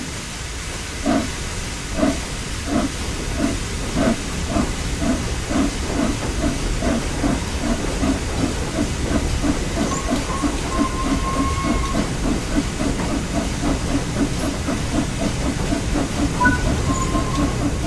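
A steam locomotive in Train Sim World 4 on the East Coast Main Line has its regulator opened, giving a steady hiss under a rhythmic run of chuffs and wheel clicks that gradually picks up pace.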